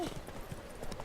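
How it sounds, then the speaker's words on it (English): Horse hooves clip-clopping at full gallop along a road in The Witcher 3: Wild Hunt, a quick steady rhythm of soft thuds at moderate distance, fairly quiet. "you shouldn't walk in the middle of the road when a horse is coming in full gallop"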